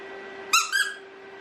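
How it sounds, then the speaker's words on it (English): A Hallmark interactive Santa bag squeaks like a chew toy: two quick, bright rubbery squeaks close together, standing out clearly over a steady faint hum. "Squeaks like a chew toy."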